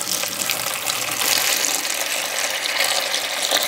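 Water pours steadily at a Jungle Cruise attraction, a dense, continuous rushing splash that stays loud and even throughout, with no voices.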